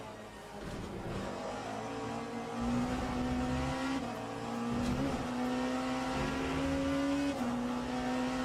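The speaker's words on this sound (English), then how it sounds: "Porsche sounds good." A Porsche hypercar engine from the racing game Le Mans Ultimate drones at sustained high revs, pitch climbing through each gear and dropping at the shifts, steady and fairly distant with no voices.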